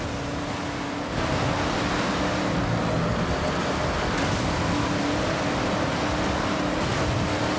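A GMC Jimmy in Forza Horizon 6 drives through a freshly planted rice paddy, a continuous loud engine roar mixed with a washing, splashing noise that jumps up after the first second and stays steady, with no talk.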